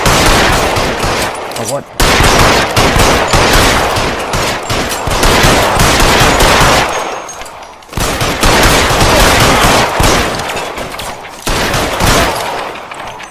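Sustained heavy gunfire in L.A. Noire Remastered, loud and close, with brief pauses between long volleys; a man briefly exclaims over the shooting.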